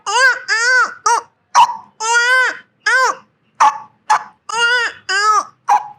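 A man imitates a newborn waking up and crying, his voice producing a rapid series of short, loud, wailing cries with brief gaps between them, close to the microphone and heard alone.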